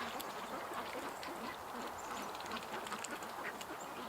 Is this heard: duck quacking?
yes